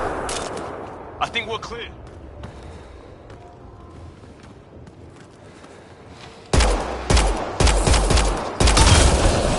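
Gunfire in Mass Effect Andromeda as shots are fired at a Kett device: scattered sharp bursts early, then a dense, loud volley near the end, with a character speaking briefly over quieter moments.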